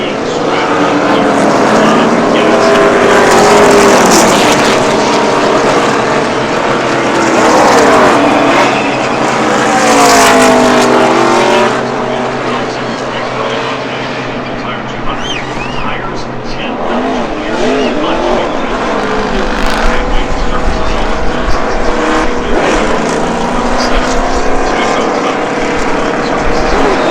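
NASCAR race cars roaring at Talladega Superspeedway, a loud sustained pack of engines with rising and falling pitches as cars sweep past, mixed with crowd and public-address voices.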